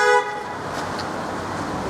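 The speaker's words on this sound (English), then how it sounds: "What's with these people hooting?" A car horn gives one short, loud toot on a street, followed by a steady wash of passing road traffic.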